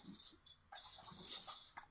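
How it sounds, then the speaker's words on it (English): A dog shakes herself, her collar jangling in bright metallic bursts: a short rattle, then a longer run of jingling with a final flick, faint and close, with no talk. "my dog's like having a shake her collar attack"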